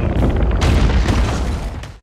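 A tower collapsing in an action-film scene from Hidden Strike, a loud, sustained low rumbling roar with crashing debris bursts, steady throughout before cutting off abruptly.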